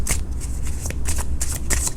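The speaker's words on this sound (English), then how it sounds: "let me pull just a couple of more cards to see what the outcome" A deck of tarot cards is shuffled and drawn close up, with quick papery riffles and flicks over about two seconds.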